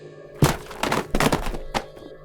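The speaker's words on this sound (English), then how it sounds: "he hears the books dropping sound as the previous day" Books drop from a shelf in a quiet room: a heavy thunk, then a cluster of rapid thuds and slaps, a final soft knock, all fairly faint and close.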